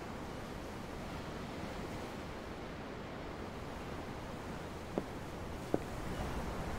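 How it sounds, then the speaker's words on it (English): Ocean surf from the video game Tales of Arise rolls in a steady, soft wash of breaking waves, continuous and even throughout, with two brief faint clicks near the end. "The waves. They help me think."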